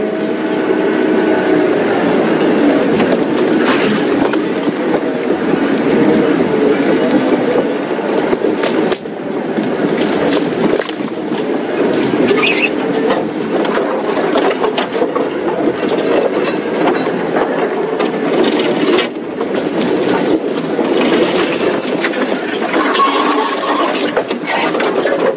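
A safari vehicle on a morning game drive, bouncing over rough ground with continuous loud clanking, creaking and rattling of its frame and fittings, close and steady throughout.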